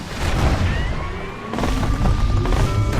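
Bomb blasts in the video game Bastion, heavy booming crashes with a dense rumbling burst, a second loud explosion hitting halfway through, close and without talk.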